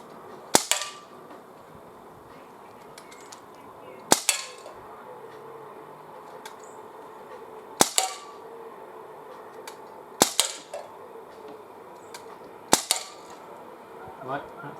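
Gamo MP-9 air pistol fired outdoors at a 15 metre target, six sharp snapping shots spaced a few seconds apart, each followed by a faint metallic impact, with quiet background in between.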